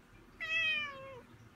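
A single clear, drawn-out meow from June, a pet cat, close and fairly quiet in an otherwise still room.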